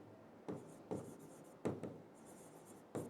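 Chalk or marker writes on a board during a teaching lesson on Kohlberg's stages of moral development, giving a few short, separate scraping strokes at a steady pace over a quiet background, with no one talking.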